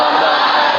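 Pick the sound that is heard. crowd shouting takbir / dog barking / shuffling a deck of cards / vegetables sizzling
crowd shouting takbir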